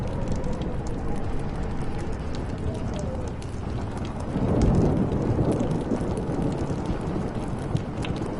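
Dense, steady downpour in the video game Life is Strange, with a swelling roll of thunder rising midway through a thunderstorm, loud and continuous throughout, no one talking.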